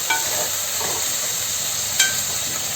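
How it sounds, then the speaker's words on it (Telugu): Ginger garlic paste fries in a pan for gongura chicken, a steady close sizzle with faint stirring scrapes and a couple of small pops. "అల్లం వెల్లుల్లి పేస్ట్ పచ్చి స్మెల్ అంతా పోయే వరకు వేయించుకోండి"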